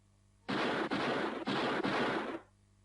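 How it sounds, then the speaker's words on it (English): A rapid burst of loud gunshots rings out as an audiobook sound effect, four or five close reports in quick succession, each decaying into the next, then falling silent. "when I heard the shots."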